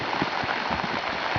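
Rain falls outdoors where a fisherman sits spooling line onto a reel, an even, fairly loud hiss of patter that runs throughout, with a few soft low thumps beneath and no talking.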